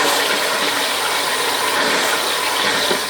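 A Sodastream Terra carbonating water, a steady loud hissing, rattling buzz that runs unbroken for a few seconds close by.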